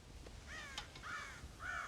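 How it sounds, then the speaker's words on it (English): Crows caw repeatedly in Red Dead Redemption, harsh calls in an uneven series of three or four, moderately close over a faint outdoor ambience, with no talking. "God damn crows!"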